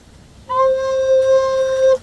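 A recorder sounds one low, steady note C, held evenly for about a second and a half over faint background hiss.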